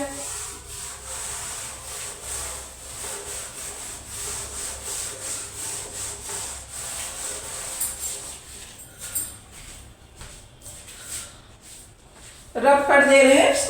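A board eraser rubs out writing in a classroom, giving steady scraping strokes that run on for several seconds under a faint voice, followed by a brief louder burst at the end.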